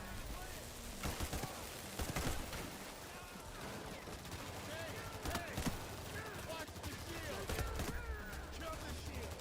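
Sustained gunfire in Payday 3, rapid bursts aimed at an enemy shield, with several louder volleys standing out over a busy layer of steady shooting and game noise, and a voice talking at times underneath.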